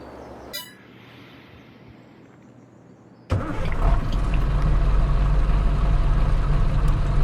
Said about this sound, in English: Get the truck going here.